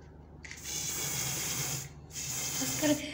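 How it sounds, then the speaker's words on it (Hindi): Aerosol spray hissing into an empty white bottle, a steady close hiss lasting over a second, a brief pause, then a second burst of spray, with no talk. "अब इसमें हम मारेंगे स्प्रे।"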